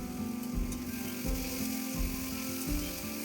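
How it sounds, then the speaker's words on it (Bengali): Dried red chillies and cumin seeds crackle in hot oil alongside frying potatoes and onions, a steady close sizzle broken by regular stirring scrapes about every three quarters of a second. "শুকনো লঙ্কা জিরে ফোড়ন দিয়েছি।"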